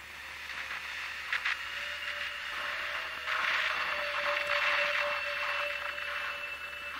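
Granular synth in Ableton Live, built from a drum break sample and triggered by a single held C note, gives a steady grainy, hissing texture with a faint sustained tone running through it. No one speaks.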